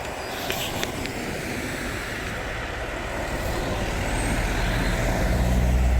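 Trucks pass the Skeoch roundabout in Stirling, Scotland, with a broad rumbling engine roar that builds steadily louder as a heavy vehicle approaches, plus a faint brake hiss early on.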